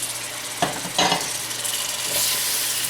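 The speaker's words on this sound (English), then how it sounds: "Now it's time for the shrimp. And I'm going to take them all and drop them straight in there." Raw shrimp tumble into hot oil in a pan, setting off a steady sizzle that swells as more land, with a few sharp clinks of pan or utensil along the way.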